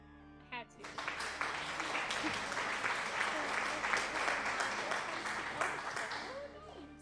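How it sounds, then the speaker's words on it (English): A sound-alert applause effect plays as a dense crowd clapping and cheering, rising quickly and holding steady for several seconds before fading, with no talking over it. "Sound alert applause."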